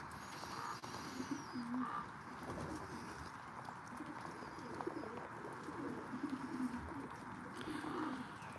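Racing pigeons coo softly in a loft, low repeated murmuring calls over faint rustling and background noise, distant and quiet throughout.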